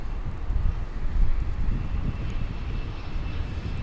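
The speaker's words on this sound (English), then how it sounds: "Another American Eagle flight arriving." An American Eagle passenger jet arriving at DFW International Airport, heard as a steady, fairly loud low engine roar with wind buffeting the microphone and no voices.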